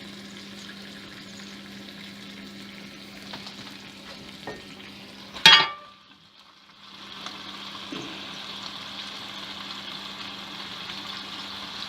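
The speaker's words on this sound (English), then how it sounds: "I'm going to add a little bit more brown to that sausage where I cut it open" Smoked sausage browning in a pan gives a steady, close sizzle that runs throughout. A sharp clatter cuts in midway, followed by a short quieter dip before the frying hiss picks up again.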